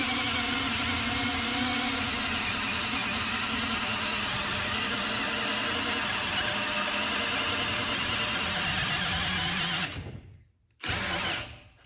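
A Metabo Powermaxx 12V drill/driver bores into wood at speed 1 with a loud, steady whine for about ten seconds, cuts out abruptly, then gives one short final burst.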